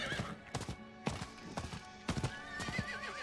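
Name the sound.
horse galloping and neighing in the Diablo IV video game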